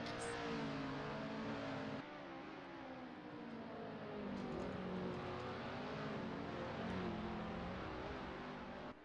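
A Lotus 49 Formula One race car engine in a racing simulation, a loud, sustained high-revving drone with steady harmonic whine that dips briefly and climbs again, running alone without talk.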